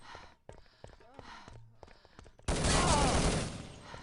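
A sudden loud burst of gunfire from a video game match lands near the end, following a stretch of someone talking over quieter game sounds.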